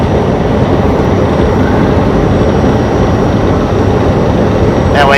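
A train rolls past in Texas, a loud continuous broadband rumble and rattle of rail cars that holds steady throughout, heard from a parked truck nearby.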